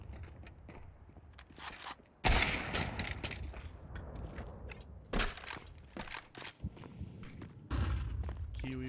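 Gunfire in an ESEA Counter-Strike match, sharp bursts and single shots with a wall-bang kill, loud cracks spaced across the stretch between quieter footsteps and game noise.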